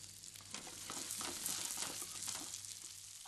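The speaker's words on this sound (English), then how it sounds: "Once the garlic has begun to brown, you can add your prawns to the heat one by one." Prawns fry in hot oil with crushed garlic, giving a steady, dense sizzle with crackling pops throughout, close and even in level, with no talking.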